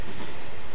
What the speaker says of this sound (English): Got another Acela Express passing us by right there.